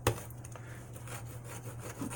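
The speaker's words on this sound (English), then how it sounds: "you just sand until that 35 degrees it's on the blade" Hand-sanding the edge of an exacto blade to a 35-degree angle, a steady close scratchy rubbing that continues without pause over a constant low hum, with no talking.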